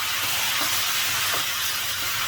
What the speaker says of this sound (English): Give it a nice mix and continuously stir it on high flame.